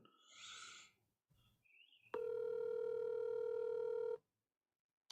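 A phone call being placed shows up as a short burst of noise, then a steady electronic ring or dial tone holding for about two seconds before cutting off abruptly. A faint click follows in silence.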